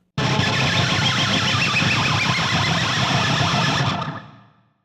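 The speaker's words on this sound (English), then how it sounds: "I'm just basically rubbing the edge of the pick against the G and the B string" A harsh, noisy guitar pick scrape, the pick's edge rubbed along the G and B strings, roars for about four seconds, smeared by dense echo repeats that fade out quickly at the end.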